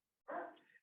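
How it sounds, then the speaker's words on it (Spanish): A single short, faint dog bark from a pet dog indoors, heard alone in otherwise quiet surroundings. "Esos son mis perros, lo siento."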